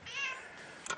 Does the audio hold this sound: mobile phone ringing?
no